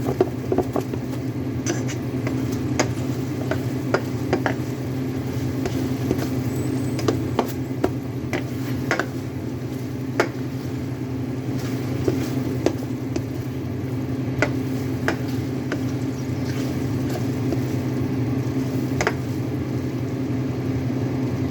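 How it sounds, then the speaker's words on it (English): Battered giant cauliflower and vegetables stir-fry in sweet and sour sauce, giving a steady close sizzle and patter with scattered sharp pops and crackles throughout, no voices. "the sweet and sour sauce is really getting cooked into the vegetables and the cauliflower."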